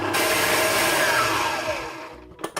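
Stand mixer whipping butter on high speed, a loud, steady motor whir that holds close and constant, then cuts off near the end and leaves a couple of small clicks.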